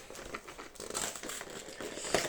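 Cardboard and plastic packaging of a Pokémon card box being opened, close crinkling and crumpling in irregular bursts with a sharp tearing rip near the end.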